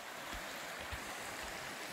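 Steady rushing of a small babbling brook beside a cramped campsite on the Pacific Crest Trail in Washington, a continuous broadband water wash with no breaks, close and fairly loud.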